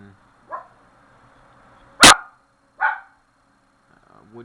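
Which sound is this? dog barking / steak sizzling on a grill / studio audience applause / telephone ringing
dog barking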